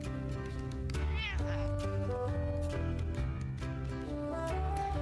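A stray cat meows repeatedly inside a coffee shop in a video game, the plaintive cries standing out over continuous background music, with no talking.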